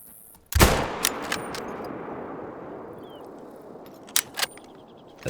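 A .338 rifle fires a single sharp, loud shot in The Hunter: Call of the Wild, its echo rolling off into a long fading tail, followed later by a couple of faint clicks.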